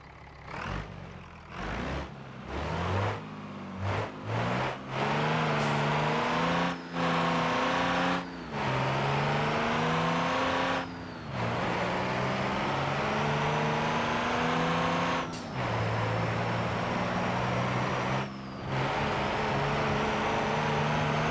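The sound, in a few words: car engine revving, wheelspin in BeamNG video game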